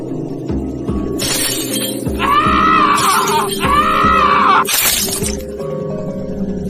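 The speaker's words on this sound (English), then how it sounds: "the windows were made of tempered glass, and I made sure to be extra careful when smashing into it" A tempered glass window is smashed in a loud, sharp shatter that breaks through sustained screaming and yelling voices.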